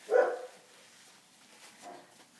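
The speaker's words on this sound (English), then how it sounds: "dogs are barking" A pet dog barks once, sharply and close, followed by quieter indoor stillness and a fainter second yelp or whimper near the end.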